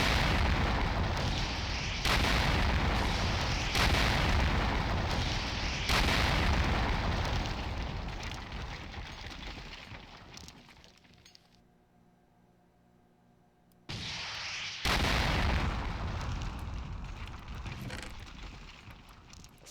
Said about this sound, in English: This is literally just a rocket launcher.